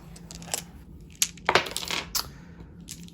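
Dice for a tabletop wargame, red and black sets, clatter onto a table in a few quick bursts of rattling, clicking impacts between quieter gaps.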